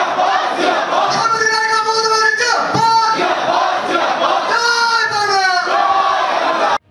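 A large crowd at a political meeting attended by a minister chants slogans in loud unison, with rising and falling shouted phrases repeating rhythmically, then cutting off abruptly at the end.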